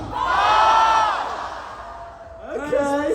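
A festival crowd at a vegan camp-out shouts a loud collective cheer of "BOSH" that swells and fades, followed by a second rising wave of whoops and yells.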